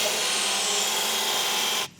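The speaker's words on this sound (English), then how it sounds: "we'll belt grind the head of this off" A belt grinder bites into the head of a bolt, a loud steady rasping whine that holds for nearly two seconds before cutting off abruptly.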